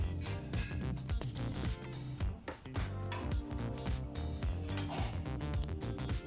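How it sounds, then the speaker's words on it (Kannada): Cooked ragi dosa being lifted off a hot griddle, with busy metallic scraping, clinking and tapping of a spatula against the pan in quick irregular strokes, close and fairly loud, with no voices. "ಈಗ ಬೆಂದಂಥ ದೋಸೆನ ಹೊರತೆಗೆಯೋಣ ಕಾವಲಿಯಿಂದ"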